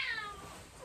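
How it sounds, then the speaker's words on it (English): A pet cat named Crumpets lets out a single soft, drawn-out meow up close in a quiet room, the call sliding downward and fading as it ends. "Sorry, my cat's come in."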